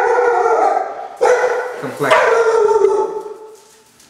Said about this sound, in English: The dog said we gotta go.